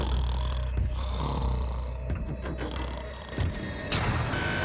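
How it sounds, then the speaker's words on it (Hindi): A police officer snores through the night in a jail cell, a steady rumbling drone with sharper snorts near the end. "वो स्टूपिड कॉप सारी रात खर्राटे मारता रहा।"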